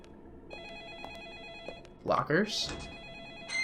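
Telephone in the Deadly Premonition video game ringing with a steady electronic tone repeating at intervals, while someone speaks briefly over it partway through.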